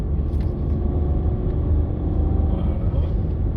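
A motorcycle accelerating hard on a mountain road, a steady low engine rumble held close and loud throughout with a faint voice underneath.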